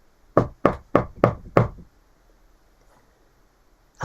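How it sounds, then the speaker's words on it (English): Knocking at a door: five firm, evenly spaced raps in quick succession, close and clear, followed by a couple of seconds of quiet room tone. "There was a knock at the door."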